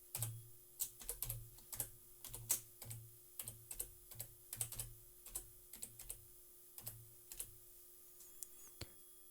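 Computer keyboard typing while entering a WordPress username and password, quiet close keystrokes in uneven bursts and steady runs, heard alone without speech.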